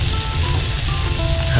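Garlic frying in a pan gives off a steady, close sizzle that runs without a break, with no voices.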